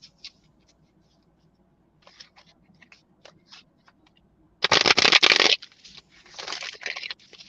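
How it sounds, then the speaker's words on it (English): Tarot cards handled at a reading: soft scattered card slides and taps, then a loud burst of riffle shuffling, followed by further shuffling and cards being drawn, close and clear with no talk. "Now we're going to pull some cards and see what else"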